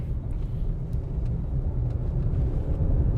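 Honda CR-V turbo engine heard from inside the car while driving, a steady low rumble with road noise, continuous and fairly even throughout.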